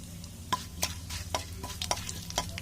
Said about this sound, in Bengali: তেল গরম হয়ে গেছে, দিয়ে দিচ্ছি এবার আমি জিরে আর তেজপাতা, আর দিয়ে দিচ্ছি একটা শুকনো লঙ্কা ফোড়নে।